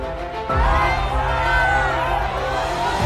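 A large crowd roars and cheers at Prime Minister Modi's mega road show in Malkajgiri, Telangana, swelling suddenly into a dense, continuous outdoor din.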